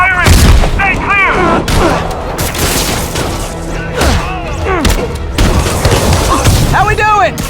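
Heavy gunfire and booming blasts rattle through a video game battle, repeated loud shots and thuds over several seconds, with character voices shouting between the explosions.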